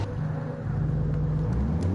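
A Gran Turismo 7 race car pulling out of the pits, a low steady engine rumble and whir building slightly over two seconds, close and continuous with no talk.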